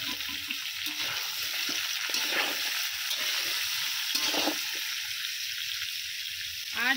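Papaya, carrot, pumpkin and cabbage fry in a pan with fried potatoes, giving a continuous loud hiss and sizzle with faint stirring clatter throughout and no voices.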